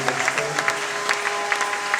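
Church congregation clapping during a Sunday service, a steady dense patter of hands with a few sharper bursts standing out, moderately loud and continuous with no voices over it.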